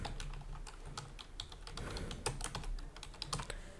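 Steady run of clicky keystrokes on a PC computer keyboard while filling in a name field on a form, quiet and close, with no talking.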